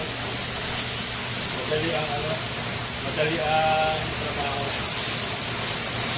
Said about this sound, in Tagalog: Laking bagay itong may power spray mga kabukas ko.